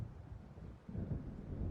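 Thunder from an approaching storm in the Alan Wake video game: a deep, low rumble rolls on steadily and swells louder in its second half, mixed with a windy, rain-like hiss.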